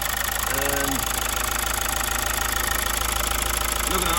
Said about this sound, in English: we are all back together and the engine is up and running